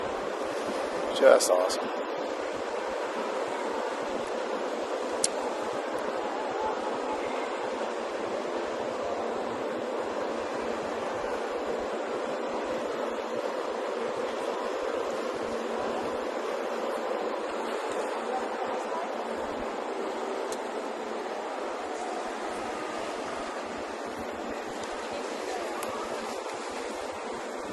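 Wind blows at sea aboard a cruise ship, a steady broad rushing hiss lasting throughout with a few brief knocks, and a voice speaks briefly near the start.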